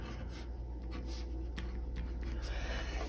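Hand-writing a matrix on paper or a board, with faint, steady scratching strokes and brief taps under a constant low background hum, no talk.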